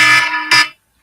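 A phone alarm set by voice assistant buzzes loudly and alone in two harsh electronic bursts, the second shorter, then cuts to silence.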